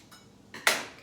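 Scissors cutting the squeezed top off a tofu package: faint rustling, then one crisp, short snip at close range, with no talk.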